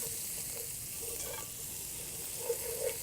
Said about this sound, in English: we're just going to cook it until the collards kind of soften a little bit